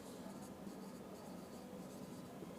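Writing on a board while solving a geometry proof about triangles gives a continuous soft scratching of strokes, faint and even, with no voice over it.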